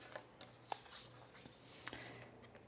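Scissors cutting a paper sewing pattern up to a seam line, giving a few quiet, close snips and crisp paper rustles spread unevenly against a faint, steady hum.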